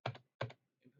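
Keys are pressed on a computer keyboard, with two crisp, close clicks about a third of a second apart and a softer third tap at the end, all in a quiet room.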